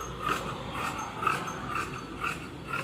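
Chudithar pant fabric being cut straight with tailoring scissors, a soft repeated crisp snipping and shearing rhythm, close and moderately loud with no talking.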